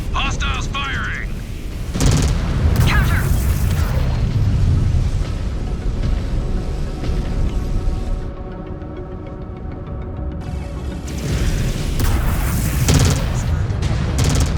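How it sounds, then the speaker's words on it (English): Heavy weapons boom and rumble in a MechWarrior 5: Clans battle as hostile mechs open fire, loud low-end blasts and roaring bursts in a dense continuous barrage, with a radio-style voice cutting in at moments. "Hostiles firing!"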